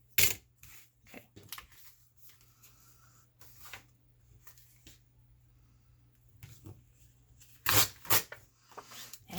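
Coffee-dyed parchment paper is torn by hand during a pocket-making collage craft, close and quiet, with scattered crisp rustles and a louder pair of tearing rips near the end.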